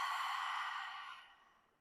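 A slow, airy exhale during vinyasa yoga practice, one long breath close to the microphone that fades out gradually over about a second and a half, soft and alone without any talking.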